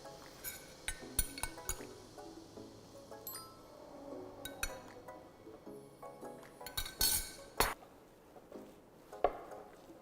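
Dough with sugar is stirred in a bowl for a homemade healthy snack, with scattered light clinks and taps of a utensil against the bowl over a quiet background and no talking.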